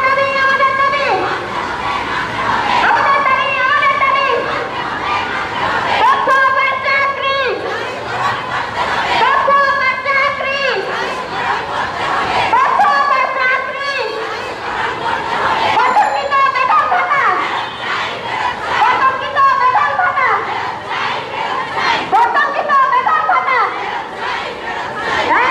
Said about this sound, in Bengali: তারা কিন্তু এখানে স্লোগান দিচ্ছেন